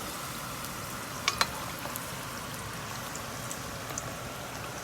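Guyanese egg balls frying in hot oil, a steady soft crackling sizzle with a couple of brief sharper pops near the start, even and continuous without talk.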